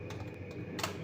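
Light typing on a computer keyboard while entering text in an Excel spreadsheet: a few soft, quick key clicks spread across a second, faint over a quiet room hum.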